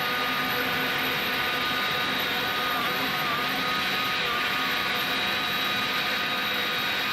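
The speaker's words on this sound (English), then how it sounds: "we're gonna go ahead and turn on engine number 2" A simulated Airbus A300 cargo jet's number 2 engine spools up in a flight simulator, a loud, steady whine and roar holding at constant level with no talk over it.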